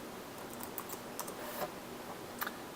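Quiet, scattered keystrokes from a computer keyboard as R commands are entered, a few light clicks spread irregularly over a low steady background hum, with no one speaking.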